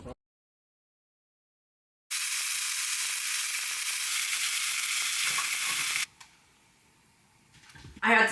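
Tilapia fillets sizzling in butter with lemon pepper seasoning in a pan, a loud steady frying hiss lasting several seconds before cutting off to quiet clatter.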